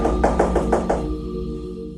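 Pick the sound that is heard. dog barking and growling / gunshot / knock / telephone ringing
knock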